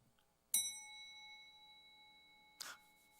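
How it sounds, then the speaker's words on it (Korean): A bell is struck twice in a quiet church. Each strike gives a bright metallic ding, and the first one rings on with a long sustained hum before the second strike cuts in. "이 종을 치는 이유가 뭐예요?"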